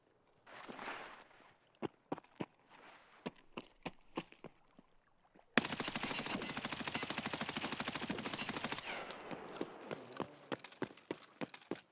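Gunfire in Escape from Tarkov: scattered single shots with sharp clicks at first, then a dense sustained burst of rapid automatic fire for about three seconds, followed by more isolated cracks.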